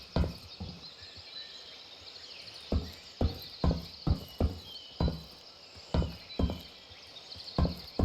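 Footsteps in the video game Incursion Red River land in a steady sequence of sharp thuds over a constant high insect-like hiss, each step distinct and fairly close.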